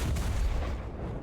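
A dense, booming rumble from a Zrinyi I tank cannon firing in War Thunder, deep low-end roar filling the whole moment with no pause.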